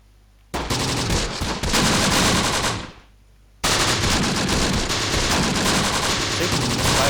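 Sustained machine gun fire from the WWII video game Close Combat: The Bloody First, loud continuous bursts with a short gap before firing resumes and keeps going.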